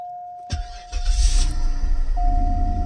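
A 2003 Cadillac engine cranks and catches, then settles into a loud, steady idle with a buzzing secondary air pump running close by, a thin whine sitting constantly over the rumble.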